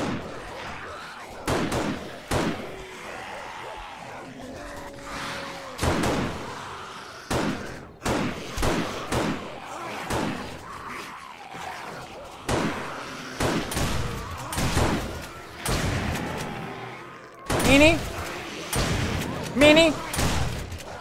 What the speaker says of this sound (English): I don't trust that they're not dead, so I shoot them again.